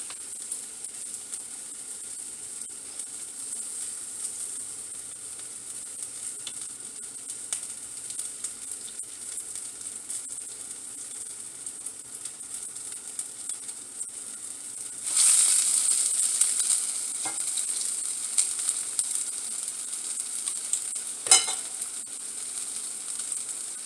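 Vegan seafood frying in hot oil, a steady close sizzle that runs throughout and grows louder and fuller partway through, with a few faint clinks.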